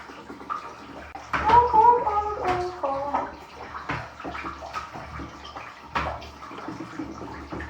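Water sloshes and splashes in a home bathtub as a small child is bathed, with gurgling, bubbling bursts and scattered splashes at close range, loudest early on and then settling into intermittent movement.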